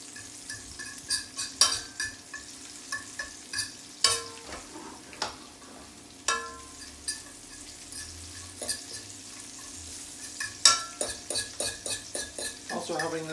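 Garlic and chili frying gently in olive oil over low heat, a steady soft sizzle broken by repeated clicks and scrapes of a utensil stirring in the pan, close up.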